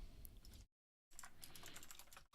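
Quiet clicking of typing on a computer keyboard, rapid keystrokes broken by a brief full pause and then resuming, heard alone and close.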